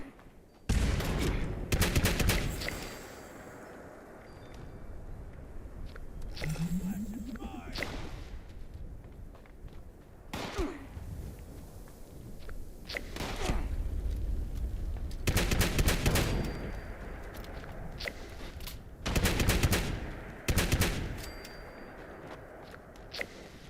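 Shotgun blasts ring out in Fallout 76, several loud booming shots spaced irregularly with bursts of other gunfire and game noise between them.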